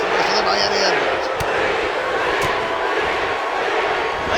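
A wrestling arena crowd at an Impact Wrestling event roars and cheers continuously, a loud dense wash of voices with a few sharp thuds cutting through.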